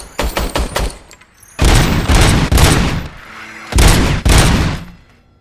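A police service weapon in Robocop: Rogue City fires in rapid bursts: a quick string of sharp shots, then two heavier volleys of booming automatic fire, each loud and close.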